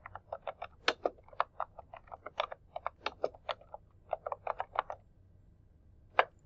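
A search term is typed on a computer keyboard: a quick, uneven run of close, crisp keystrokes for about five seconds, a short pause, then one final keypress, with no talking.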